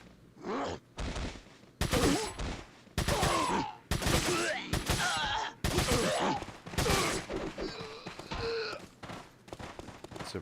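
Shotgun blasts in Resident Evil 4, a string of loud sharp bursts in quick succession mixed with game grunts and shouting from enemies.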